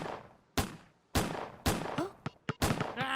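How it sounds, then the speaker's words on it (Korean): Gunfire in a video game shooting mission: a series of sharp, loud shots fired one at a time at irregular intervals, with a couple of quieter smaller pops between them and no talking. "첫 번째 미션, 사격 실력을 보여줘요, 아놀드."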